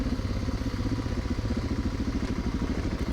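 A big BMW Sertao motorcycle descends a steep trail with large stepped drops, its engine a low, steady thrum with rhythmic clatter and no voices.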